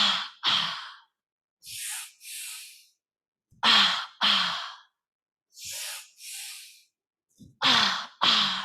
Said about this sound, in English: Breathing in, breathing out.